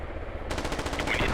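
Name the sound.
enemy gunfire in the video game MARS: Scarlet Storm Rising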